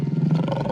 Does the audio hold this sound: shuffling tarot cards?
no